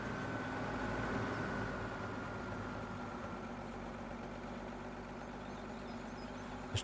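Steady low engine hum of a tractor idling in Farming Simulator 17, quiet and continuous with a faint broadband rumble and no talk.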